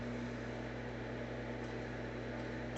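A VG5790 pellet stove running steady and close, a constant broadband rush of blower air with a low steady hum beneath it, unbroken and without talk throughout.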